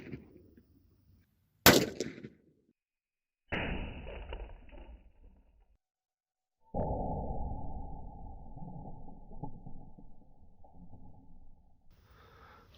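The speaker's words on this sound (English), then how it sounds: "Snub nose revolver, we're shooting a 38 special." Snub nose revolver firing .38 Special rounds: a single sharp, loud report followed by decaying echo, then separate bursts of noisy rumble and a long sustained roar with silent gaps between.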